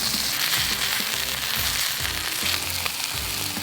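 Beef tenderloin laid presentation side down in an oiled 12-inch cast iron pan sizzles loudly and steadily, a dense crackling sear with no voices.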